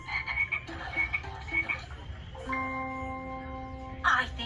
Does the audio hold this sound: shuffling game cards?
no